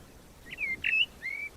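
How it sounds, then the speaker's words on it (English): A blackbird sings on the Isle of Man, three clear whistled phrases with a rising and falling lilt, set against quiet outdoor background. "Oh, listen to that. Blackbird."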